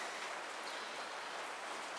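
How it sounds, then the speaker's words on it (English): Heavy rain pours outside a garage, a steady, even hiss of broadband noise with no breaks, fairly faint and continuous throughout. "try to survive all the rain. It's coming down pretty good."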